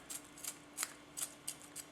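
A Teruyasu Fujiwara 210mm gyuto knife slices through celery in six crisp, quiet crunching cuts at a steady rhythm, close up with no talking.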